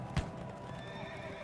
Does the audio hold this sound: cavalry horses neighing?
yes